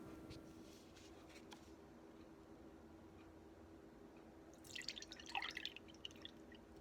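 Homemade oat milk dripping and trickling through a strainer, a steady faint patter that swells into a brief louder splashing run near the end, no talk.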